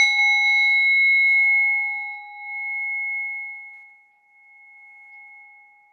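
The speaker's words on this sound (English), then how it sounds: "So I'm going to use a bell to start us in and then to bring us out again" A meditation bell struck once for a yoga session, a clear bright ring whose pure tone sustains and slowly fades over several seconds, alone with no talk.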